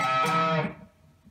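An electric guitar double bend on the B and E strings at the 15th fret, a loud sustained bent note ringing for about half a second before fading out, played alone.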